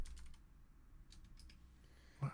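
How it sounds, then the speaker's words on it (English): Light typing on a computer keyboard, a few quiet scattered key clicks in short bursts with a louder tap at the end, alone in a quiet room. "I'm just going through making sure I'm typing all these correctly."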